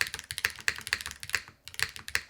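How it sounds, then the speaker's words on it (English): Keys and the spacebar of a Meletrix Dyna TKL mechanical keyboard with a carbon fiber plate clack in a steady, brisk rhythm, close and crisp, with one short pause midway. "spacebar is great on this keyboard"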